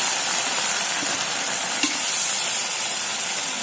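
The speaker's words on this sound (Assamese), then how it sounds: "হালধি নিমখ দি মই লৰাই দিছোঁ।" Turmeric-and-salt-coated food stirred in a little oil in a home kitchen, giving a steady broadband sizzle and hiss with faint scraping stir strokes, no voices.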